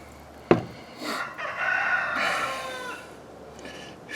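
A chicken close by gives a sudden sharp knock, then clucks and breaks into a loud drawn-out crow that fades into softer clucking, with no one talking.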